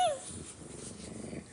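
A pregnant pet dog gives a low, rumbling growl, close and fairly quiet, sustained through the moment after a short higher yelp at the start.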